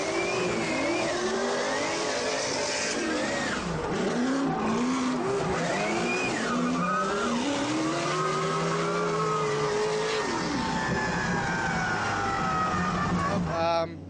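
Race cars on track during a chase run captured by an onboard action camera, engines revving and shifting with rising and falling pitch, loud and continuous as the cars accelerate and brake through corners.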